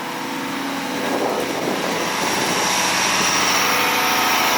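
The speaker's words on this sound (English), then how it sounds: "You really hear that turbo in there." Turbocharged diesel engine of a Case heavy equipment machine, heard from the cab, a steady loud drone with a rising whine as revs build, continuous throughout.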